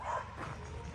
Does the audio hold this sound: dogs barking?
yes